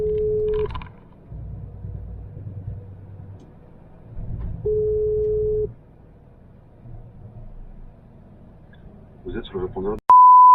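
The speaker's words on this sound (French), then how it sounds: "Appel du contact Michael principal en cours." Outgoing phone call placed through Google Assistant in a car on a long convoy drive: two long ringback tones, spaced several seconds apart, over steady road rumble and low cabin noise, ending with a short electronic beep.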